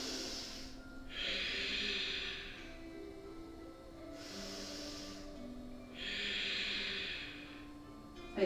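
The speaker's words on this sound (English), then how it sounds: "We're breathing." Slow, deep breaths during a yoga flow, long airy inhales and exhales through the nose, close and soft, alternating in a steady rhythm with no talk.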